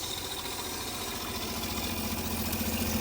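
Camper van water pump running as a continuous, steady mechanical hum with a faint vibrating drone, moderately quiet and unbroken for the whole stretch.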